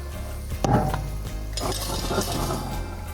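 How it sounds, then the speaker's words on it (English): A metal pan holding cauliflower steaks clanks as it is slid into an oven, with a sharp knock followed by softer rattling and scraping close by. "So we're gonna go ahead and put this in the oven."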